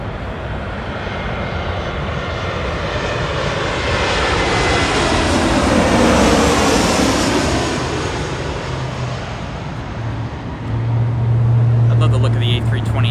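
Airliners at Los Angeles International Airport, including Airbus A320neos with large engines, roar past in a loud sustained jet rumble that swells to a peak and fades, with a low engine drone rising near the end.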